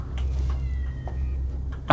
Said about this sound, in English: Was that a cat? That's a fucking cat.